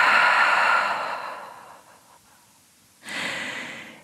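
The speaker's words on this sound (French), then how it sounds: "Ouvre la bouche, expire" A long open-mouthed exhale during a pranayama breathing exercise, a steady breathy rush fading over about two seconds, then another loud breath starting after a short pause; close and clear, no talk.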